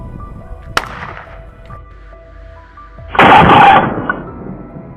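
A sharp gunshot cracks once at a wild boar in a farm vegetable patch, followed by lingering tonal background and a later burst of broadband noise.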